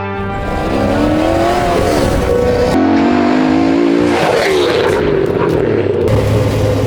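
A modified Chevrolet Blazer pulls away and accelerates, its engine note climbing and dipping through gear changes, loud and close for several seconds with a brief tire squeal.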